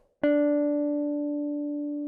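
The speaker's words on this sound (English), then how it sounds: "D, 3rd finger, 7th fret, 3rd string." A single guitar note, D played at the 7th fret of the 3rd string, plucked once cleanly and ringing steadily as it slowly decays, alone in quiet.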